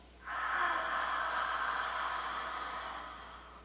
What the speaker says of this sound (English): Exhale through an open mouth, same way